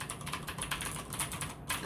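Rapid, crisp clicking of a blue-switch mechanical keyboard being typed on, a steady stream of sharp close keystrokes with a brief pause near the end, no voices.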